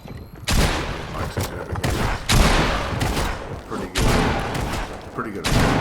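Shotgun blasts ring out repeatedly in the video game Fortnite, loud booming shots fired in quick bursts with short gaps between, mixed with game action and close-up thuds.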